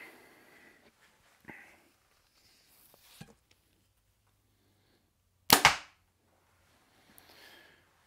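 Mathews Phase 4 29 compound bow loosing a 400 grain arrow with stabilizer fitted: one sharp, loud snap and thud in mostly quiet surroundings, preceded by a few faint clicks and soft handling noises.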